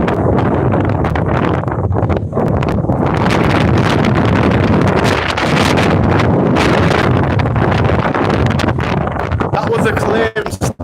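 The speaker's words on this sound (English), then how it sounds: "I generally cannot even walk fast, the wind is that intense." Strong, intense wind blasts into a microphone outdoors, a loud continuous rumbling buffet that roars throughout and cuts out abruptly near the end.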